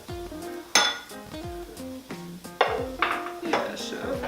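A bowl of shrimp set down in a home kitchen while making empanadas, giving several sharp ceramic clinks and knocks among clattering dishes, with people talking nearby.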